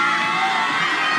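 Home crowd roaring and cheering at a climbing competition semi-final in Seoul, with continuous dense shouts and whoops, loud and sustained throughout.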